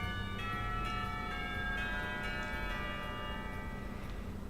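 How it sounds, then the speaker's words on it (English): A school bell rings in the visual novel game Katawa Shoujo, a steady sustained chime over a continuous low background that holds for several seconds with no talking. "the bell rings, calling us back to our classrooms"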